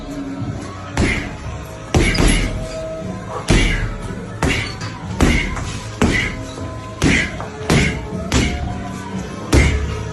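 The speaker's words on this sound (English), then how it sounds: "Smashing the heavy bag in camp." Anthony Joshua throws punches into a heavy boxing bag at a training camp, each one a loud, close thud, about a dozen of them spaced roughly a second apart over a low background.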